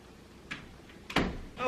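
A door in a room at night is opened or closed, with a soft bump, then a louder knock and a rattle close by, followed by a short burst of voice.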